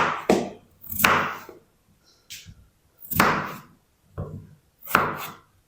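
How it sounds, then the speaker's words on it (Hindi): A knife chops boiled potatoes into small pieces on a board: five loud, close, separate thuds spaced about a second apart, with no voices. "इनको ना हम छोटे छोटे पीस में कट कर लेंगे"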